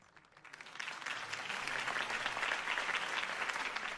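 Crowd applause breaks out after a political campaign speech in the video game Batman: The Telltale Series, swelling from a quiet start into steady, dense clapping that holds for several seconds.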